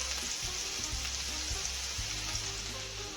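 A sandwich sizzles and fries in a hot pan, a steady, close crackling hiss that never lets up.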